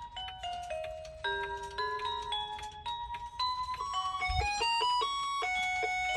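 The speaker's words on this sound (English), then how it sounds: "here goes the Howard Miller. This one's still going off." A Howard Miller clock chimes a melodic sequence of clear bell-like tones, each note ringing on and overlapping the next for several seconds, fairly close and alone.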